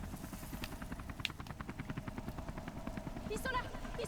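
A helicopter in the Beyond Two Souls video game, heard as a steady, rapid rotor thump that carries on throughout with sharp metallic clatter. People talk over it.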